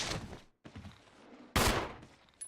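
Handgun fire in the Resident Evil remake, Chris's playthrough: a few sharp, loud shots with a brief gap between them and a burst near the end, with no voices.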